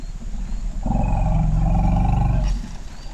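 An African savanna elephant calf gives a loud, deep call, a sustained low roar-like rumble with a harmonic tone lasting about two seconds, close and strong over a low background rumble.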